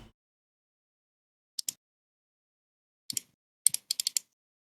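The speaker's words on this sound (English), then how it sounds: "I can hear mouse clicking" Sharp computer mouse clicks, a pair near the start and then quick clusters of two to five, crisp and close with silence between them, heard during a PC game session.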